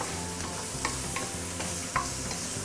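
Pork belly stir-fried in a wok to render out its fat, giving a steady, dense sizzle close by with soft scrapes from stirring. No one speaks.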